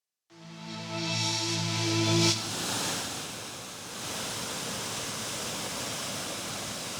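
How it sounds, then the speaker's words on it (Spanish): Water released from the Aldeadávila dam in Salamanca thunders in a dense, steady roar, loud and unbroken, with a brief tonal hum at the start that fades beneath the rushing torrent. "Con esta fuerza desembalsa la presa de Aldeadávila, en Salamanca."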